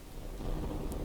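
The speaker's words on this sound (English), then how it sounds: "There's lots of explosions because of the APHE ammo that those RLMs default with." Rumbling explosions from APHE tank shells in the WWI-era vehicle combat game Sprocket, a dense, continuous low boom and crackle with no voice over it.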